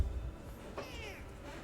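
A pet cat gives a single faint meow indoors against a low background rumble.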